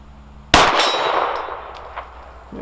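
A pistol bullet from a Smith & Wesson M&P 2.0 Compact strikes a steel silhouette target with one sharp, loud metallic clang that rings on and slowly fades, with no talking.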